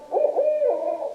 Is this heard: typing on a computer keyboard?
no